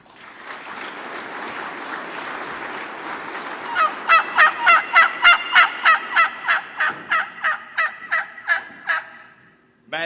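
A turkey call imitates a wild turkey's gobble at a calling contest, first a rising rattle and then a long run of about a dozen loud, rhythmic clucking pulses that taper off toward the end.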